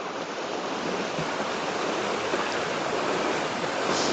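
A flowing stream outdoors, a steady loud rushing of water, close and constant, with no voices over it.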